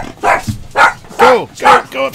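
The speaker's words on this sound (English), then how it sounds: "dogs." Dogs bark in a run of four or five loud, close woofs at an even pace, with a short whimpering yip mixed in.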